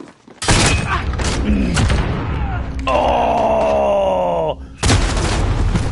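Crossbow bolt explosions in online Modern Warfare on PS4 Pro burst out loud and close, with booming blasts and ringing tonal effects. A player's voice briefly cries out.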